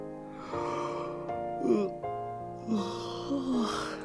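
Snoring in the visual novel White Album 2: a few breathy, snorting snore sounds rise and fall over soft background music.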